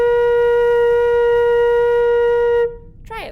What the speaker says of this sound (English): So this is what B flat sounds like.